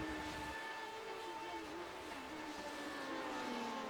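Race car engine screaming at high revs through the kink at Road America during a retro series race, a steady sustained whine with shifting pitch, loud and continuous with no talk over it.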